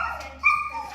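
A dog indoors in the same room during a training session gives a short, close yip or whimper-like bark, a brief pitched vocal burst standing out over quiet room tone.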